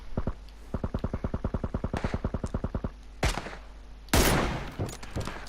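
Bolt-action sniper rifle fire in PUBG on PS4, a couple of sharp isolated shots after a rapid run of clicking or firing bursts, heard close with no talking.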